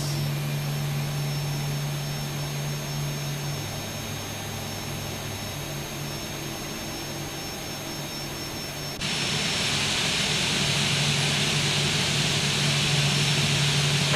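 A simulated Boeing 737-800 jet engine in X-Plane 12 runs steadily after start, a loud continuous roar with a low hum that swells noticeably brighter and louder partway through, no voices present.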